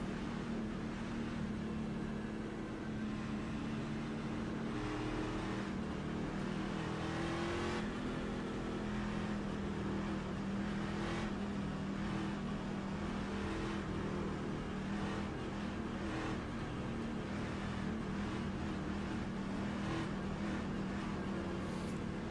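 Porsche Cup race cars in the iRacing sim, a pack of engines droning and revving together steadily and loudly throughout, a dense continuous roar with shifting pitch and no talking.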